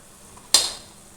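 Petha (ash gourd) being stirred in a pan on high flame gives one sharp scraping clack followed by a brief fading sizzle, close and alone.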